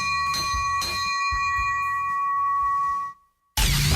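A bright, sustained chime rings with clear overtones in a Children's Hospital Los Angeles ad, struck a few times and humming steadily before cutting to a short silence and then a burst of noise.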